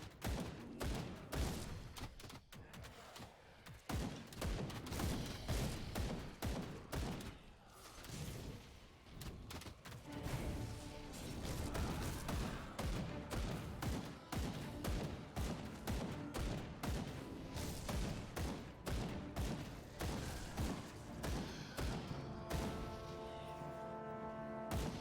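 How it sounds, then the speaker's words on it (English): Archers loosing arrows at the player in the action RPG Grim Dawn, a dense, continuous barrage of thuds and impacts mixed with loud combat effects and music throughout. "Fucking stupid archers shooting me from that gate."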